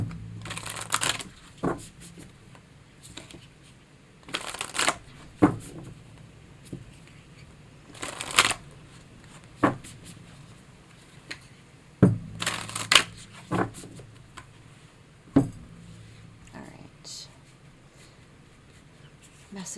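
Tarot cards shuffled by hand during a reading, a series of crisp riffling bursts spaced a few seconds apart with quieter handling sounds between them.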